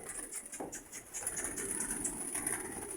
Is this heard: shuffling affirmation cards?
no